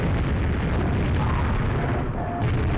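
Loud, dense rumbling blast from a rocket jump in the video game Quake, a sustained boomy roar with crackling low-end filling the whole moment.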